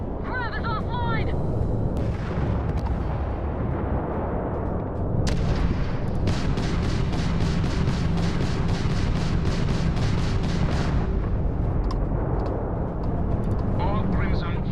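Enemy spaceship weapons fire in the video game Starfield during a space battle, a dense continuous barrage of booming blasts and rapid gunfire under engine roar, with game voices speaking in the mix.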